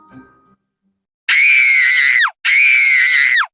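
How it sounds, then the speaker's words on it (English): Little Red Riding Hood lets out two long, loud, shrill screams in a cartoon story, separated by a short gap after a faint quiet start. "Little Red Riding Hood screamed her little head off"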